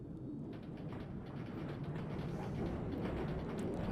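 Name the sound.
Bombardier tram running, from Train Simulator Classic video game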